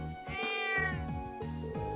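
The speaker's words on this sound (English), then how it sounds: "Crow started playing with the cat." A cat meows repeatedly in the Legend of Heroes: Trails of Cold Steel video game, drawn-out cries set over steady game music, with no talking.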